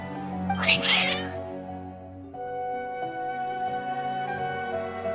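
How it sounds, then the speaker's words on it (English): Cats meowing in the video game Genshin Impact, a burst of loud, high cries near the start, then steadier tonal meows continuing over a low background drone. "Your cats seem pretty worked up."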